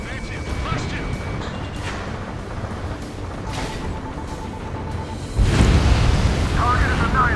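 An oil tank blows up in Ace Combat 7 during a pipeline strike: a heavy rumbling blast swells near the end over a constant roar of jet engine and combat noise, with radio voices talking throughout.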